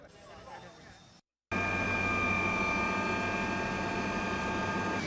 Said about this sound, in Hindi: चुनाव यात्रा में इस समय हम हेलीकॉप्टर में हैं और शाहजहांपुर से हमने उड़ान भरी है